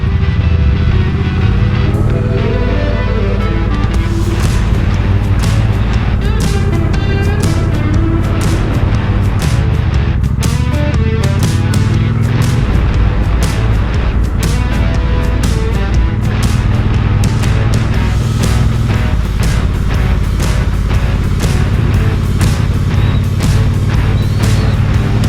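A motorbike is ridden at speed, its engine roaring steadily and loud close up, with shifting revs and rushing wind across the whole ride and no talking.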